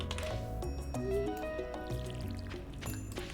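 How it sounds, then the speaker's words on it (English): A farming video game plays watering sounds as plants are watered, with wet squishing and pouring tones layered over steady game music. "So let's go ahead and water these and we'll get some seeds in them shortly."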